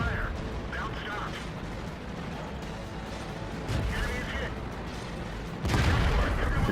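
A tank cannon in World of Tanks fires a heavy boom near the end, after mechanical clanking and engine rumble, with a voice talking earlier.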